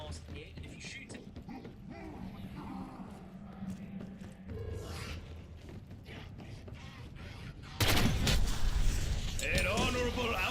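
A sharp video game gunshot fired at a hidden mask in a collapsed study, a sudden loud burst after quieter mechanical creaks and game ambience, followed by a lingering noisy tail.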